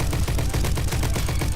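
An STG rifle in the Roblox game Bad Business fires a fast, steady automatic stream of sharp shots, loud and up close, with no pause until it cuts off.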